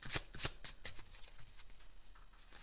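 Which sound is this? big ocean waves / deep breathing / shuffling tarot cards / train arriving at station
shuffling tarot cards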